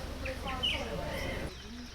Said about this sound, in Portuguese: Os pássaros também estão por aqui, voluntários no replantio da floresta